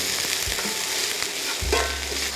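Diced red pepper sautéing in a pan, a steady loud sizzle with a few soft stirring scrapes and a low thump near the end.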